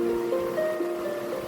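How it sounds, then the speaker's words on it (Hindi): Heavy rain pours down in Vrindavan as a steady, even hiss with a faint, constant hum running underneath. "वृंदावन से झमाझम बारिश हो रही है"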